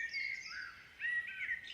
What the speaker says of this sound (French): par ces chants mélodieux d'oiseaux